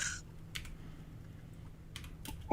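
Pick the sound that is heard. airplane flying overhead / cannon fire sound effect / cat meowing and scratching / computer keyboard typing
computer keyboard typing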